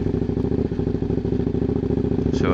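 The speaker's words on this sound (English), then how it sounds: "this is a 1000cc V-twin" A KTM 990 SMT motorcycle's 1000cc V-twin engine runs close and loud with a rapid, even throbbing pulse, plus a brief higher chirp right at the end.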